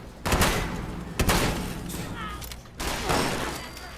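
Shotgun blasts in the video game Fallout 76, three loud separate booms spaced about a second apart, with brief quieter gaps between them.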